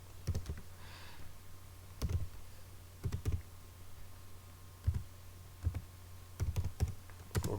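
Someone types on a computer keyboard while renaming a sheet in an Excel workbook: irregular bursts of crisp, close key clicks and taps with short pauses between them.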